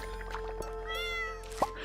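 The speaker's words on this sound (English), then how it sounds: "The cat needs some water." A single short cat meow from a farming video game set in The Valley rises briefly over soft background music, faint and close, with a small chime near the end.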